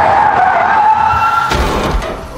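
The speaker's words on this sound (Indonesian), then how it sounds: "mobil mereka menabrak sesuatu di tengah jalan" A car skids on the road with a sustained loud tire squeal, then a heavier rumbling impact as it strikes something in the middle of the road, film-style sound effects with no talking.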